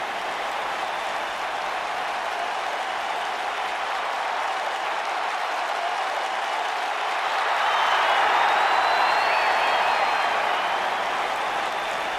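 Arena crowd in the WWE 2K19 wrestling game roars steadily before a match, a continuous wash of cheering and applause that swells louder toward the end, with no talk over it.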